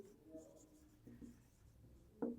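A pen scratches faintly over paper while math is worked out by hand, soft irregular strokes with short pauses and a slightly louder scrape at the end.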